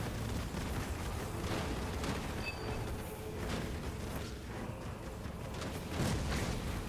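Mines exploding in Halo Wars 2 during a pro league match, a continuous rumbling wash of blasts and booms at moderate level, with scattered sharper bursts layered over the battle noise.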